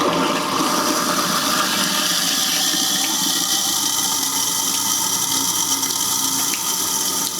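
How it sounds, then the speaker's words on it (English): Garbage disposal running in a clogged kitchen sink as it drains, a loud, steady whirring roar with rushing water that holds constant for the whole stretch. "We'll turn the disposal on."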